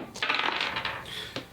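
Several dice clatter and tumble across a hard surface for a Dungeons & Dragons perception check. A quick close burst of bright rattling settles out, then one last click sounds, with no talk over it.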